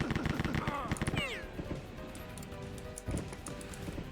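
Mobile turrets firing in the Rise of the Triad video game, rapid bursts of gunfire with a few descending whistles early, then a duller rumble and a sharp burst near the end.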